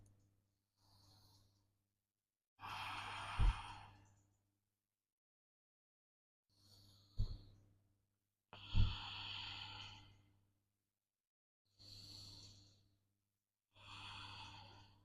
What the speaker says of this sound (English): We are taking 3 long, slow breaths here.